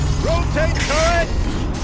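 Machine turret in the video game Horizon Zero Dawn rotating, a loud mechanical whirring with rising creaky tonal sweeps and ratcheting over a steady low rumble, lasting under two seconds.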